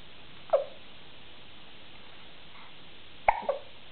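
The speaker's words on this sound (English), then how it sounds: "'Cause he got hiccups?" A baby hiccupping, two or three short faint squeaky hiccups separated by quiet gaps in a calm indoor room.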